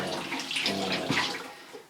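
Tap water runs steadily into a sink as beet-stained fingers are rinsed under it, a close, continuous splashing hiss with small shifts as the hands move.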